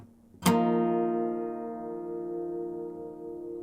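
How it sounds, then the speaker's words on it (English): A single guitar harmonic plucked at the 13th fret on the first and second strings together, a clear bell-like chime that rings on and slowly fades, near and alone. "harmonic on the 13th of the first and second string at the same time."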